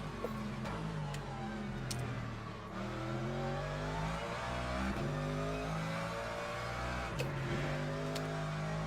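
LMGT3 race car in a sim racing game at the Algarve circuit, its engine droning steadily and loud throughout, with pitch rising and falling through shifts and brief lifts, plus faint ticking clicks.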